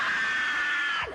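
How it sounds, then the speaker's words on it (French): Several people yell together in one loud, sustained shout, lasting about a second before breaking off, then a voice begins again. "on le réveille à 3 et on crie"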